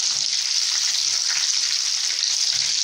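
Breaded chicken pieces fry steadily in a pan of hot oil, a close, continuous bright sizzle with faint crackles and no talking over it.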